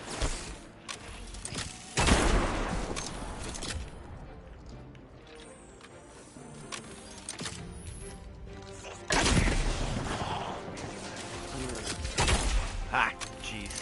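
Shooter video game on PS4 with bursts of gunfire and heavy impacts, loud volleys near the start and again later, separated by quieter stretches, with a player talking over the action.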